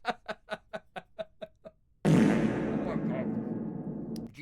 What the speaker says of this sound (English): thank you so much for the fart sound effect